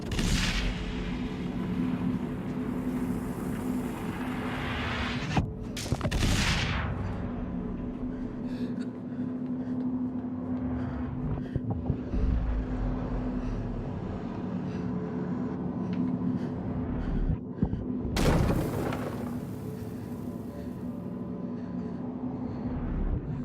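A super weapon blast in the video game Inside rolls out as a deep booming rumble under a steady low drone, with two sharp bursts breaking through, one early and one late.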